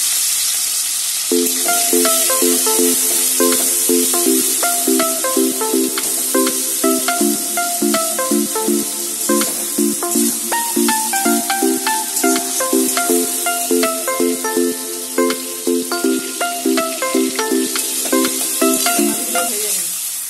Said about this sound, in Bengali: চিংড়ি মাছগুলো দেওয়া হচ্ছে